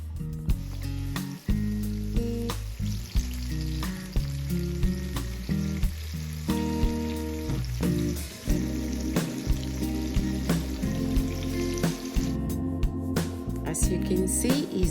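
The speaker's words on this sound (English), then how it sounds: "make sure you flip it and let the other side cook as well for 5 minutes roughly" Ripe plantain slices frying in oil in a pan, a steady close sizzle with soft crackles and occasional clinks of a utensil throughout.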